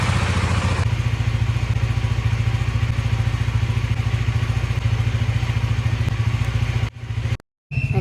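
A motorcycle cold-starts and then runs loud and steady close by, its engine note holding constant for several seconds before cutting out abruptly near the end.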